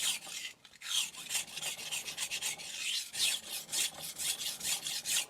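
A ZDP189 steel bunka knife blade, a Yoshida Hamono Bunka Black 190mm, scraping along a regular ceramic sharpener in a continuous series of raspy strokes, close up and fairly quiet, with no talking.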